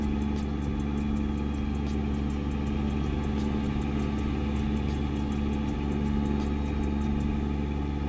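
A truck engine in American Truck Simulator drones steadily while driving along, a continuous mid-low rumble held at an even level throughout, with no talk over it.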